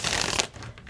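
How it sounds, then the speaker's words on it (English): Tarot cards being shuffled by hand, a dense papery riffling that runs for about half a second and then drops away to quiet room tone. "So let's shuffle and get right into the energy"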